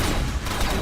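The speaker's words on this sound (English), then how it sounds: "Opening fire on target." Decepticon gunfire in the Transformers: Revenge of the Fallen video game crackles as a dense, continuous burst of shots, loud and close, with no talk heard.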